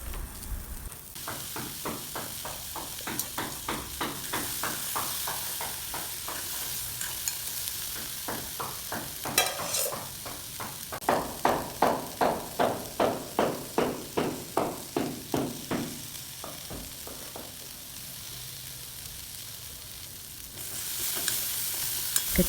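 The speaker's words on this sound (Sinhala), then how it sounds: "එකතු කරගත්ත තක්කාලි සෝස් ටිකත් හොඳින් කලවම් කරගෙන" Boiled chickpeas and tomato sauce are stirred in a frying pan with a spoon, giving a steady run of rhythmic scraping strokes over a soft sizzle, close and moderately loud, with no talking.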